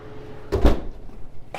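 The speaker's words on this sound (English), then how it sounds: "You close this oven door and you do not open it again" An oven door swings shut with one solid thud, a short rattle after it, and a lighter knock a moment later.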